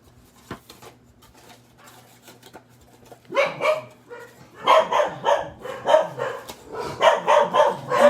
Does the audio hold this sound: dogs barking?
yes